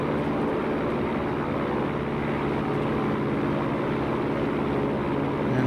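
Piper Cherokee single-engine propeller plane in X-Plane droning steadily at reduced throttle, a constant, loud cabin engine hum with no pauses and no talk.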